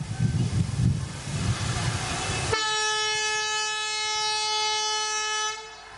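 Special train 05222 Sonpur–Patliputra pulls away at a flag-off ceremony in Bihar, rumbling with crowd noise, then a long, loud, steady horn blast holds for about three seconds before cutting off.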